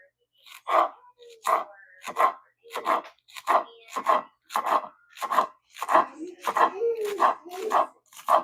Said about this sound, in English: I'm gonna wash and chop my parsley and green onions